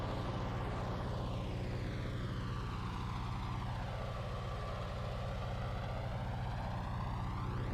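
Aircraft approaching an airport in MS Flight Sim, a steady droning engine hum with a strong low rumble and slowly sweeping tonal whine, continuous and fairly loud with no talking.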